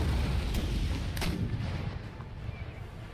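Cannon artillery barrage pounding fortress walls during a siege in Empire: Total War, with Poland-Lithuania's guns firing: loud rumbling booms and a couple of sharp reports in a dense, continuous low roar that eases slightly toward the end.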